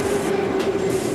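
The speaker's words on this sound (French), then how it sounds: "Vous entendez? C'est les rames qui passent derrière." Moscow metro trains run just behind a door, a steady muffled rumble with a whining tone, heard continuously at moderate level.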